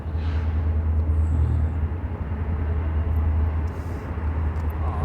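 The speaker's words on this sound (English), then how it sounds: "The train's gonna drown you out." Continuous low rumble of a train rolling past nearby in the small Ohio town of Rendville, steady and heavy throughout with no voices over it.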